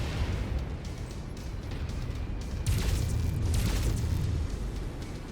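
Dropship engine noise in MechWarrior 5: Mercenaries, a loud, continuous rumbling roar with crackling bursts swelling near the middle, heavy low end throughout.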